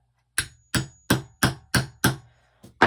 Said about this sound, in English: I'm just going to take my hammer,